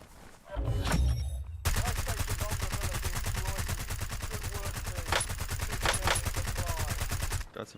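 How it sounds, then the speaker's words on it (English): Sustained gunfire from an Xbox shooter video game, rapid automatic bursts running loud and dense for several seconds with sharper individual shots standing out near the end. "Got some shots on him."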